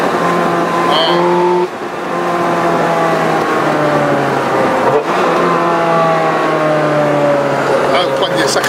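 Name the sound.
Ferrari F430 Scuderia accelerating, engine revving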